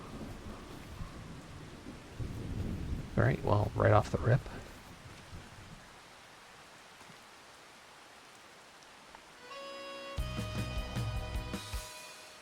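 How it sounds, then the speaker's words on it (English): Steady rain with rumbles of thunder in the video game Farming Simulator 25, a louder thunder roll early on and a rising storm burst near the end, with someone talking over it. "And it's raining."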